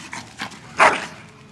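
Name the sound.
dog barking in video game Dragon Age Origins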